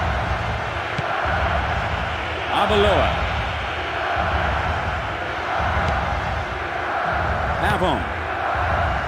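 Stadium crowd ambience from the PS2 football game Winning Eleven 9, a steady roar that swells briefly in excitement, running continuously beneath a commentator calling player names.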